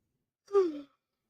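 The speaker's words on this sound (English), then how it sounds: "Sorry, yawning." A single short yawn: one close, soft voiced exhale that swells and then trails off into silence.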